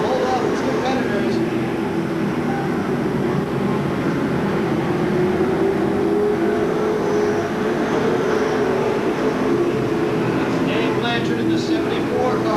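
Stock cars race at Seekonk Speedway in a steady, loud engine roar that drones on without break, with an announcer talking over it.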